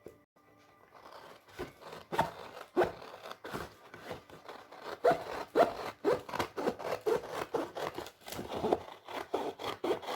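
Scissors snip away an extra piece of cardstock for a handbag-style purse album, a quick run of close, crisp cuts and crunchy rustles in an irregular rhythm, growing busier toward the end.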